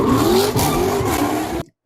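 A car motor revs hard at close range in a brief roaring burst with a slight whine, pulsing twice before cutting off abruptly, with no voices over it.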